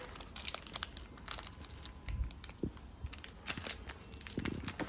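A biscuit packet is crinkled and torn open up close, giving a faint, continuous crackling rustle of plastic with scattered sharper crunches.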